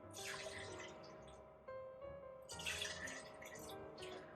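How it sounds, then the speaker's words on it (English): Liquid is poured into cups in a small room, with splashy trickling in two bursts separated by a short gap, close and moderately quiet with no talk. "I'm just gonna pour your drinks now."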